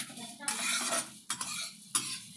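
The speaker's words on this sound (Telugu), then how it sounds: "ఇదంతా సిమ్లోనే ఫ్రై అవుతుంది" Bitter gourd masala fries in a pan over a low flame, a soft steady sizzle broken by three scraping stirs of a utensil against the pan, close and fairly quiet with no talking.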